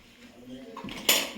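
Cutlery knocks against dishes while apples are cut in a home kitchen: quiet scraping at first, then one sharp, bright clink near the end.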